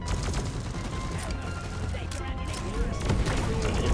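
Dense, continuous gunfire rattles as players shoot down a sentry gun in the video game Deep Rock Galactic, loud and sustained, with excited voices calling out over the shooting.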